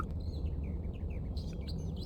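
Birds chirp in the Empyrion game world in a quick run of short, bright tweets that rise and fall over a low ambient hum.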